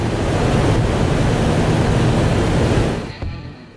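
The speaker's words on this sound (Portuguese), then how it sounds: "você sente aqui o barulho da água passando" Water rushes through the penstocks of the Itaipu hydroelectric dam in a loud, steady broadband roar that holds constant and then drops off sharply near the end, with no voices over it.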